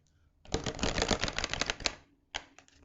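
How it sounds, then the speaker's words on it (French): A tarot card is drawn from a deck, with a close, crisp burst of rapid riffling and shuffling clicks for about a second and a half. A shorter flick of cards follows, and there is no talk. "Je vais juste prendre une dernière petite carte."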